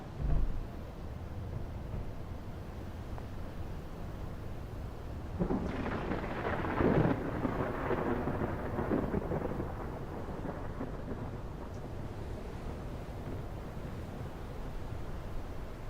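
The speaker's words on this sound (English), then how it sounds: "I gotta go out in the thunderstorm here" A thunderstorm rages inside the video game Space Engineers, with a steady wash of rain and wind broken by a heavy rolling thunder swell midway that slowly fades back into the constant storm noise.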